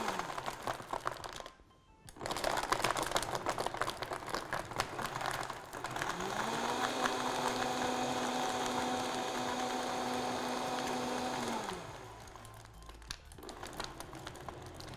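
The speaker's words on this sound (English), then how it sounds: "what we're going to do now is just blend it in the Vitamixer" A Vitamix blender blending acai smoothie bowl ingredients, a loud, dense whirring roar that holds steady, with a rising motor whine in the middle section before the roar settles back down.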